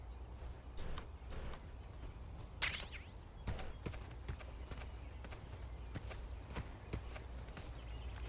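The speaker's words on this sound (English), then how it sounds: "Footsteps." Faint, soft footsteps tread in Metal Gear Solid 3 remake, scattered irregular steps over a low ambient hum with one sharper bright clatter.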